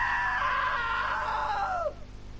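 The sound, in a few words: scream in the video game What Remains of Edith Finch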